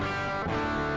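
An electric guitar plays through the drive tone of a Saturn effects pedal, giving a brief, steady, distorted sustained note at moderate level.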